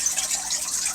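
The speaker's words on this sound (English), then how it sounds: "I dropped the whole plant down into the tank" Phalaenopsis orchid plant dropped into a water tank, heard as a short, steady splash and gush of water, close and moderately loud throughout.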